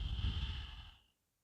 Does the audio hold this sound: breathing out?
yes